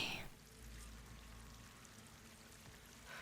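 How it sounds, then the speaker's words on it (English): Steady rushing water from a waterfall in Horizon Forbidden West, a faint continuous wash of falling water with no talk over it. "That waterfall must be coming from somewhere."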